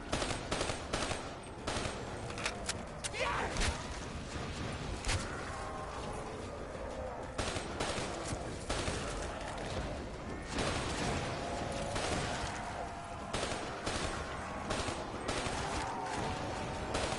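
Rapid gunfire fills a Black Ops 3 match, with dense bursts of automatic shots and scattered single cracks continuing steadily at close range throughout.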